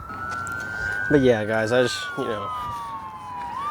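A police or ambulance siren wails outdoors as a steady, slowly falling tone at moderate distance, running continuously under a voice speaking briefly.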